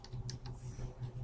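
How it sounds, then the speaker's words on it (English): A password is typed on a computer keyboard in a short, steady run of soft, close key clicks, heard alone. "just type in password"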